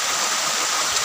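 River flowing below a waterfall, a dense, loud, steady rush of water without pauses or voices.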